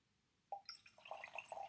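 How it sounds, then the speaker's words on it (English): Red cabbage indicator poured into a clear liquid in a kitchen chemistry demonstration, a soft splash followed by a steady, faint trickling and bubbling of liquid, close by and alone. "I'm going to pour in some of the red cabbage indicator"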